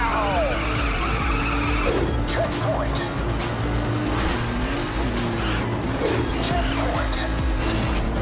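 Race cars in a racing video game trailer, engines whining and tires squealing through repeated skids, with rising and falling pitch sweeps over a loud driving mix and talking voices.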